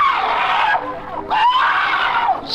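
A woman's loud, piercing scream in an old-time radio crime drama, rising and wavering in two long sustained bursts with a brief break between them.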